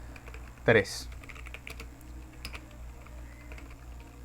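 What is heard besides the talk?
computer keyboard typing code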